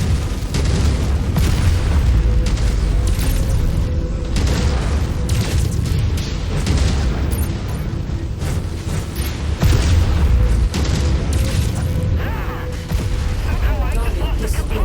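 Mech explosions in the video game MechWarrior 5: Mercenaries: heavy booming blasts and rumbling detonations mixed with weapon fire, dense and loud throughout, with voices talking over the battle.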